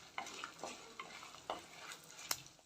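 Whole spices and cashews roast in a pan over a medium flame, giving soft, scattered crackles and light scraping stirs, quiet and close with no voices.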